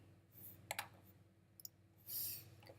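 Quiet, crisp clicks from a computer mouse, a quick double click followed by another pair a moment later, alone in a quiet room with a soft rustle near the end.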